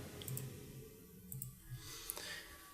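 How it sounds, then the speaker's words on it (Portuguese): Computer mouse clicks while placing points along an outline with a selection tool in Photoshop: a few soft, separate clicks spaced irregularly, close and fairly quiet over a faint background hiss. "com a ferramenta selecionada, você vai dando clique a clique"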